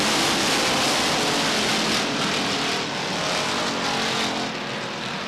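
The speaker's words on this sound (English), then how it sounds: "Cars bumper to bumper and wheel to wheel through the 4 turn." Stock cars roaring wheel to wheel through the fourth turn at Beech Ridge Motor Speedway, a steady loud wash of engine noise from a tightly packed field, continuous with no break.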